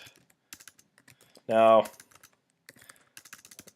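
Fingers tap on a computer keyboard in quick, uneven clusters of soft clicks, close and fairly quiet, broken by a brief spoken word partway through.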